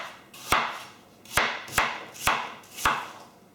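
Knife cutting through cooking apples onto a board, five crisp separate chops at uneven intervals, close and clear with no talk.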